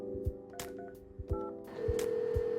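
A telephone dialing a call, a series of distinct touch-tone beeps separated by soft clicks, close and clear, ending in a longer sustained tone with no talk.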